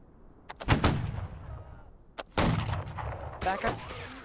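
Musket volleys in a video game: a few sharp scattered shots, then a loud ragged volley and a second burst, each trailing off in a rumbling echo, fairly distant and alone without talk.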